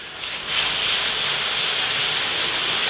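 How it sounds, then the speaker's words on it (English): A handheld heat-transfer iron rubs in small, firm circles over iron-on transfer paper on a T-shirt, giving a steady close scraping hiss that starts after a brief pause and runs on alone. "so I'm using it like an iron with small circular movements"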